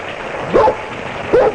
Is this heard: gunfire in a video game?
no